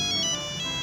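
An old mobile phone ringtone plays alone, a bright electronic tone with repeating beeps in a steady pattern, close and fairly loud.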